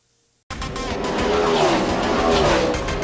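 Race cars roar loudly at Lee USA Speedway, a sharp cut-in after near silence, engines and tire noise filling the track in a sustained, dense wall of sound.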